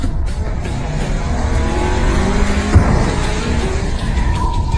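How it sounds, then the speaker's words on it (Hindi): Race cars in an animated racing contest roar steadily with engine harmonics, one brief skid or impact thump near the middle, loud and close with no talk over it. "ये कार रेसिंग है, कोई बम्पर कार मैडनेस नहीं।"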